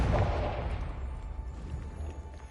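Confringo blast spell in Hogwarts Legacy bursting with a deep booming impact that rumbles and fades over a couple of seconds, fairly close and alone.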